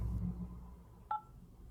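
A single short phone keypad tone rings out as 8 is pressed to activate a beneficiary during an Al Rajhi bank phone call, brief and clear against a quiet background.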